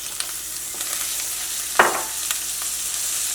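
Onions sautéing in a home kitchen pan, giving a steady soft sizzle with a brief stirring scrape near the middle, no talking.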